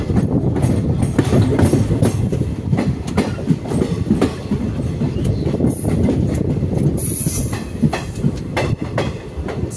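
The 15603 Guwahati–Ledo Intercity Express rolls steadily on rails, with a continuous loud rumble and repeated clickety-clack wheel beats heard from on board, with no talk.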